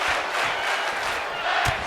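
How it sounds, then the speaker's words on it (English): Arena crowd in the WWE 2K wrestling video game chanting during a tag team match, a steady roar of many voices filling the clip with a few brief louder swells. "You can hear the crowd singing tag team wrestling"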